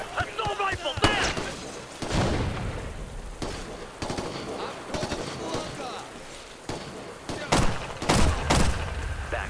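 Bursts of assault rifle fire in the shooter game Ghost Recon Future Soldier crackle loudly and repeatedly, mixed with other gunfire and battle noise, while voices speak over the action.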